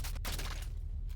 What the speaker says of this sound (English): Nail gun.